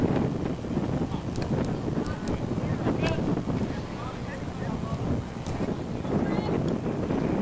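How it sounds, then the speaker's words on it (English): Wind gusts across an outdoor high school baseball field during a New Trier versus Maine West game, a steady rumbling buffet on the microphone with faint crowd voices and brief sharp sounds in the background. "Wind kicking up a little bit."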